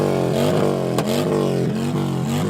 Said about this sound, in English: A motorcycle pulls alongside, its engine revving every time they try to chant.